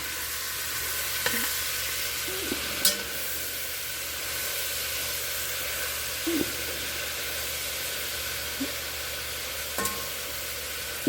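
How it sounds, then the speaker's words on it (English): Ham sizzles steadily in a pan over a campfire as it caramelizes, a continuous soft frying hiss with a few faint clicks and scrapes, no voices. "You cook the ham till it's about caramelized."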